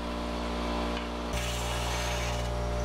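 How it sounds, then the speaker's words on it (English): A power saw cuts a wood board into vanity molding trim pieces, a loud continuous whine that shifts pitch partway through as the blade bites into the wood. "Then I cut the molding pieces away from the center and cut them to length."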